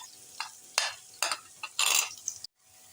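Browned onion being stirred with ginger and garlic paste in a pan, with a spoon scraping and sizzling in several quick, close strokes before the sound cuts off abruptly.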